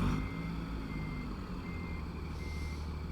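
Steady electronic reversing beeps from a backing truck in American Truck Simulator, repeating evenly over a low engine drone, no talk.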